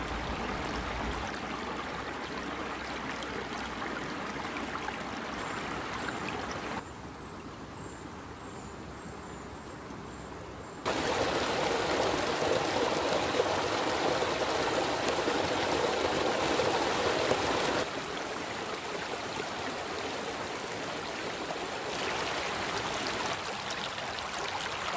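A small stream, a sub-tributary of the Rhône, flowing steadily with a continuous close rush and babble of water that briefly softens, then swells louder.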